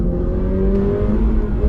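Subaru BRZ tS boxer engine pulling on a highway: a steady, loud in-cabin engine drone with road rumble and a faint rising tone, no talking.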